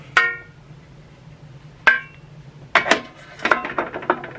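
A metal grill pan from a Ninja Foodi extra large grill is handled and fitted into an air fryer, giving several sharp metallic clanks and rattles, first single knocks and then a cluster of clattering hits.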